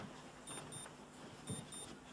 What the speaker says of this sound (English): The alarm's gone off and it's driving me crazy.